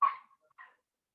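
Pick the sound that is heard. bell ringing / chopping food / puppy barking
puppy barking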